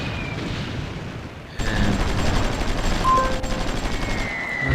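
Gunfire in the strategy game Supreme Ruler Ultimate rolls as a dense, continuous battle din with a low rumble, jumping louder partway through and staying heavy, with no voices.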